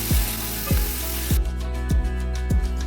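Fish roe sizzles and fries in a pan, a loud continuous hiss with soft rhythmic scraping strokes of stirring about every half second, close up and with no talking.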